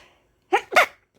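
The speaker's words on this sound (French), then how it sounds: "Ah, désolée, j'ai éternué." A person lets out two quick sneezes in close succession, loud and near, with near silence before and after.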